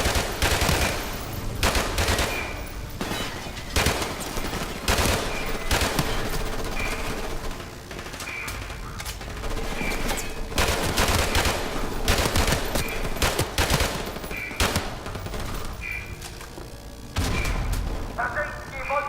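Rapid bursts of gunfire crack through a Call of Duty: Modern Warfare Remastered firefight, loud and close, repeated shots and automatic volleys overlapping with game voices and effects throughout.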